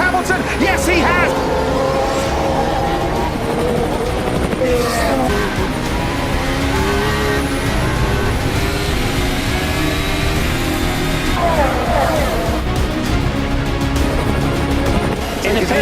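Formula 1 cars, Mercedes and Ferrari among them, accelerate away from a race start, producing a loud, continuous wash of roaring engines and passing cars with brief squeals and shifting pitch, while a voice talks over it.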